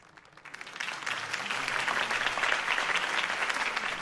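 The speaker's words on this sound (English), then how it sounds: "If only Mr. Wayne, my campaign's largest backer, could have heard that applause" Applause starts quickly and swells into steady, loud clapping from a large crowd, continuing without a break.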